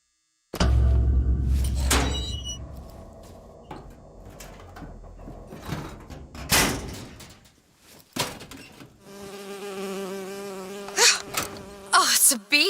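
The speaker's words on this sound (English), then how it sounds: "Oh, it's a bee. I hate these things." A bee buzzes in the video game BioShock Infinite, a droning insect hum weaving among thuds, clanks and other game noises, with tonal buzzing growing clearer near the end.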